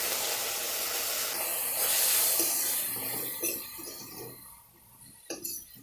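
Chopped tomatoes with salt and turmeric powder sizzle in a hot kadai for a healthy chutney, a steady hissing spray of frying that swells then eases, with a few sharp metallic clinks of a spoon near the end.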